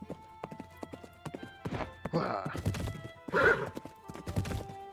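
Hooves clip-clop steadily as a horse is ridden in the video game Tales of Glory, with a loud neigh or whinny partway through and a brief vocal exclamation.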